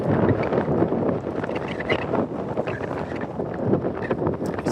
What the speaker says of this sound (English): Is the sound of the wind really bad?